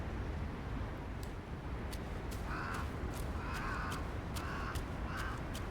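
Crows caw in the video game Black Myth: Wukong, four or five hoarse calls spaced a second apart over a constant loud ambient rush, with faint ticking sounds throughout.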